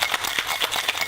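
A cocktail being shaken to blend it, a rapid rhythmic rattle of ice knocking inside a shaker, about eight quick strokes, close and moderately loud.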